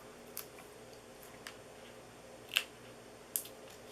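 Scissors snipping out small paper pieces for a handmade summer greeting card, a few soft, sparse clicks and snips, the two around the middle a little sharper, very quiet and close, with no talk.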